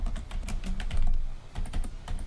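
Rapid, continuous clicking of keys on a computer keyboard that keeps acting up, heard close and fairly loud over a low background hum, with no speech.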